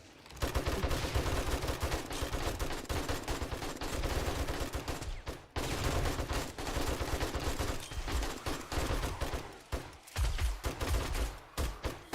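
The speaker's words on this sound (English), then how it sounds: "At the same time, I'm shooting some zombies." Dense gunfire rattles almost nonstop while zombies are shot in 7 Days to Die, loud rapid overlapping shots with brief breaks near the middle and toward the end.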